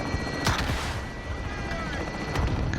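RPG fire in the game Call of Duty Modern Warfare: a dense, noisy rumble of combat with a couple of sharp launch bursts standing out over continuous gunfire and battle ambience.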